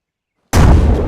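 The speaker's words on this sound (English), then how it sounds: "Alright, controlled explosion." A controlled explosion brings down a house with one sudden loud boom that breaks the silence and rolls on as a heavy rumble.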